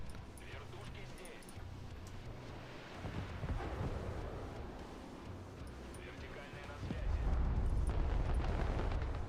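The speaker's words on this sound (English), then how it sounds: "Everything gets destroyed because you blow up the supplies." Game explosions in Broken Arrow as supplies are blown up, a dense rumbling roar of blasts under heavy speech, swelling louder and deeper toward the end.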